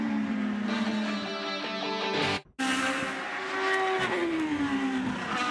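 IndyCar race cars in the 2010 Honda Indy 200 at Mid-Ohio Sports Car Course scream down the front stretch, loud engine whine rising and falling as cars pass close, with a brief dropout midway.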